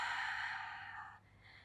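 A single long, soft exhale of breath during a Pilates spine roll-down, a breathy airy hiss that trails off quietly after about a second.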